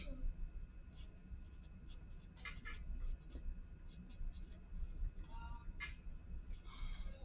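Quiet scratching of a pen writing on paper, in short irregular strokes over a low steady background hum, with no talking.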